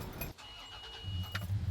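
A truck with a 4-liter six-cylinder engine cranks briefly and catches, settling into a low, close idle rumble without any talking.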